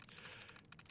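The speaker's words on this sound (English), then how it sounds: "It'll get kind of annoying listening to all that clicking" Computer keyboard typing, a quick run of light plastic key clicks in an irregular rhythm, close and fairly faint, with no talking.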